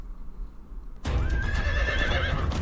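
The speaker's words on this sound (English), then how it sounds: "Horse!" A horse whinnies loudly and close by in a Doctor Who episode, a sudden high neigh rising out of near silence, with hoof clatter and a rumbling, busy background beneath it.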